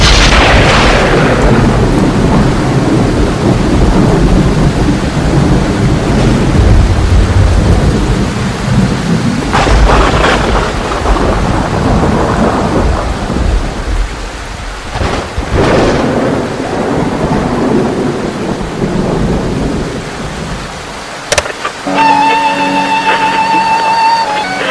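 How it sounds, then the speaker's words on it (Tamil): Heavy rain pours loudly and continuously while deep thunder rumbles roll through several times, with a sharp crack late on, close and dense throughout. "மழை பேய் மாதிரி கொட்டுது."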